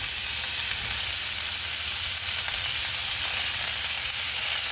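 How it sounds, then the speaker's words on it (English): Beef sears in a hot pan with a loud, steady sizzle and hiss throughout, and no voices over it. "We want to get a nice sear on this meat"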